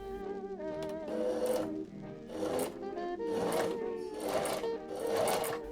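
Sewing machine stitching a dress bodice to its gathered skirt for a cheap costume, running in several bursts of steady whirring with brief pauses between them, close and clear.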